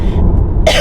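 A short, rough cough or throat clear, loud and close, with a low rumbling burst that ends in a harsh rasp.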